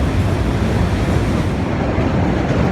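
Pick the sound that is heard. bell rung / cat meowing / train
train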